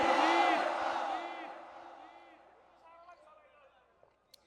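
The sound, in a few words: crowd chanting takbir (Allahu Akbar)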